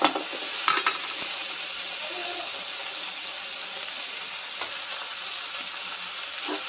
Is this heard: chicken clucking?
no